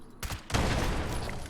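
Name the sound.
gunfire from an angry gun in a video game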